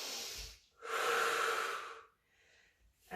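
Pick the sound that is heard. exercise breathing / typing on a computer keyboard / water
exercise breathing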